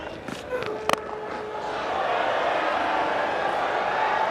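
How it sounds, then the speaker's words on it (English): Cricket crowd at Queen's Park Oval in a West Indies versus India ODI, a swelling roar of cheering that rises after a couple of sharp knocks and holds steady in the distance. "Brings the Queen's Park Oval crowd to life."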